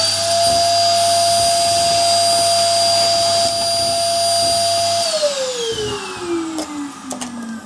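A workshop dust extractor hums steadily at full speed after being switched on by a cordless remote, with a high whine over a low drone, then powers down, its pitch sliding lower as it spins to a stop.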